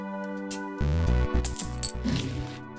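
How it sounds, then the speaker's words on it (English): Multiple coins pay out in the video game Balatro, a rapid cascade of clinking metallic chimes over a bright musical tone, loud and busy for about two seconds with no voices. "it sounds a little bit better than the cash register sound just because of the multiple coins aspect of it"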